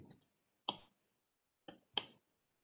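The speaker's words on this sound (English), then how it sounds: "I just double click." Sharp computer mouse clicks in a quiet room, two quick double-click pairs separated by a pause, close and crisp with nothing else audible.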